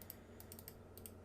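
A name is typed on a computer keyboard in MetaTrader 4 trading software, producing several faint, crisp key clicks in small clusters against a quiet room hum.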